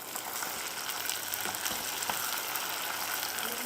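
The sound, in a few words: mutton liver sizzling as it is added to hot oil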